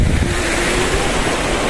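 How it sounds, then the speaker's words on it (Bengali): Water flowing on a mountain, a steady, loud rushing wash that continues without a break, with wind noise on the microphone and no voices. "জল বইছে।"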